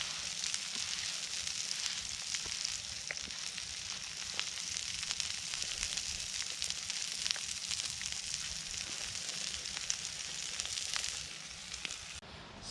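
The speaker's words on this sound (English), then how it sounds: "I hit the steak back on just a little bit just to" Steak reheating on a camp cooking surface outdoors in the woods, giving a steady, close, crackling sizzle that runs the whole time with small pops and no talking.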